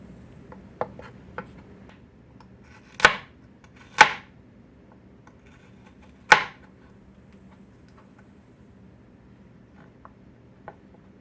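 Knife chopping small carrots for a summer chef salad: a few sparse, sharp knocks on a board, three louder cuts standing out against a quiet background, no talking.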